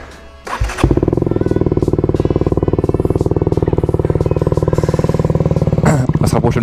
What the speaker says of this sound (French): Là je vais faire le test du pot, donc sans chicane, voilà.